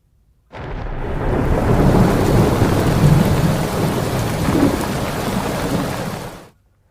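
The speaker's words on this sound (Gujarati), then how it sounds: "અને હવે વાત મુંબઈમાં મુશળધાર વરસાદની" Torrential monsoon rain in Mumbai pours in a dense, steady roar with deep thunder rumbling underneath. It starts abruptly, stays loud and continuous for about six seconds, then cuts off, with no voices.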